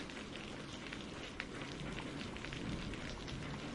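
Steady rain falls in a dense, even hiss of drops striking surfaces. The sound holds at a soft, constant level throughout, with no voices.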